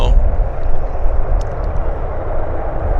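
An airplane lands on the south runway at Vancouver Airport, its engines a loud, steady broadband roar filling the whole stretch, with no let-up from start to finish.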